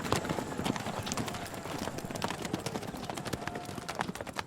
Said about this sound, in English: Then they all jumped on their horses and rode out through the castle gates.